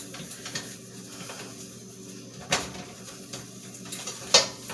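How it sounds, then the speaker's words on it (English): Butter is spread across the bottom of a baking pan for chocolate chip, walnut and date cookies, with light metallic scrapes and a few sharp clinks of utensil against pan in a quiet kitchen. "I think I'll go ahead and put some butter in the pan, in the bottom, just in case"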